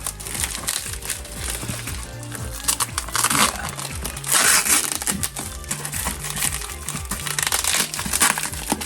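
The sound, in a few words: packing tape being pulled and crinkled while unboxing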